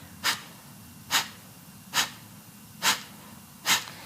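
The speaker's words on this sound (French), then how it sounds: "on expire comme si on se mouchait" Five sharp, forceful nasal exhales from a yoga breathing exercise, evenly spaced under a second apart, close and distinct with quiet pauses between each puff.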